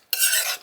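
Spoon stirring grated Swiss cheese into a thick chicken cordon bleu casserole mixture, a steady close scraping rasp that starts abruptly and runs without talk.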